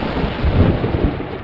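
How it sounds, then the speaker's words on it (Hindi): Thunder rumbling through a stormy forest at night with heavy rain, a dense low roar that swells briefly in the middle, loud and close with no voices. "ये बिजली को भी अभी कड़कना था।"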